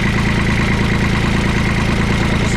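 A long-unused New Holland LS125 skid steer's engine running at a steady idle, loud and close, with a continuous rattling chug and a throbbing low drone and no voices.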